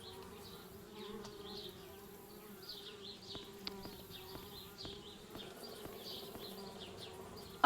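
Bees buzz around a treehouse in the adventure game Anna's Quest, a soft, wavering drone of several insects circling nearby with faint clicks in the background.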